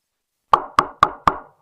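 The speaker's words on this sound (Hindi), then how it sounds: "तभी उसके दरवाजे पर किसी के दस्तक होती है।" Four sharp, evenly spaced knocks strike a wooden house door at night, loud and close, after a moment of silence.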